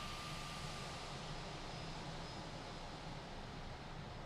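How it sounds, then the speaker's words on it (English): A Fenix A320 airliner taxis in Microsoft Flight Simulator, with a constant broadband jet engine roar and faint high whine, steady and unbroken. "Let's start doing some taxiing."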